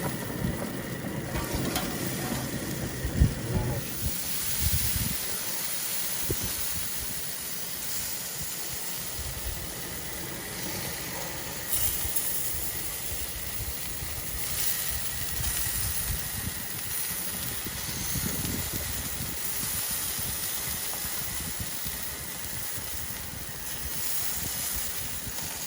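Chicken suya and guinea fowl meat sizzle on a grill in a steady, close hiss with soft crackles and occasional pops running throughout, no voices.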